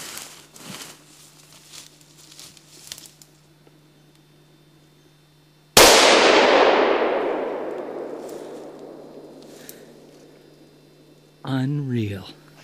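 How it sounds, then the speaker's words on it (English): A single sharp rifle shot cracks out during a moose hunt and rings off in a long, decaying echo, after softer rustling and murmured voices; a voice briefly speaks afterward. "I can't believe it took 4 shots and 3 shots he's still standing"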